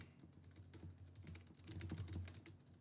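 Quiet rapid clatter of fingers typing on a computer keyboard, a quick irregular run of light key taps with a faint hum underneath, growing slightly busier toward the end.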